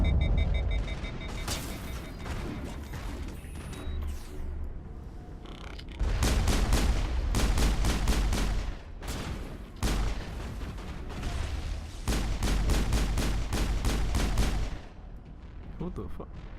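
Repeated bursts of rapid automatic gunfire from an overheating rifle loaded with hammerhead rounds in Mass Effect, loud and close, firing in several long volleys broken by short pauses.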